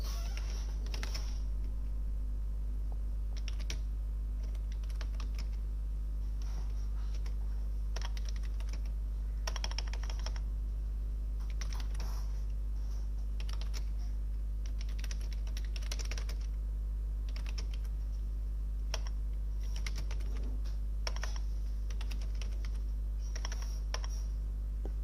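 Steady clacking of keys on a computer keyboard, irregular bursts and pauses of typing over a constant low electrical hum, with no voices.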